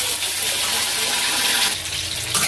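Water gushes steadily into a cooking pot for a curry with potatoes, a continuous close, loud pour with a slight change near the end.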